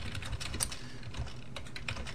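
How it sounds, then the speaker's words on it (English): Rapid clicking of keys on a computer keyboard as a short document is typed, close and steady with irregular bursts of keystrokes and no voices. "I'm just going to go ahead and type a real basic one up, welcome"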